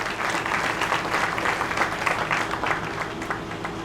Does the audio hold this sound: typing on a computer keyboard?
no